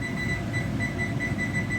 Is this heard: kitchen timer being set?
yes